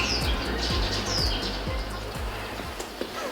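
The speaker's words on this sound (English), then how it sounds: "Silly bird." A bird gives a few faint high calls in the background over a steady low hum and rhythmic mechanical thumping, in an animation-themed area of Taichung.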